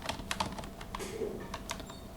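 Quick, light clicks of typing on a computer keyboard, an uneven burst of close keystrokes at low volume, with no voices.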